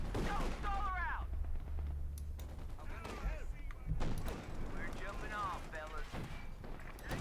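Bursts of gunfire from a Company of Heroes 2 match, Wehrmacht against US Forces, as units engage a Greyhound armored car. Repeated shots and volleys crackle through the clip beneath steady talking.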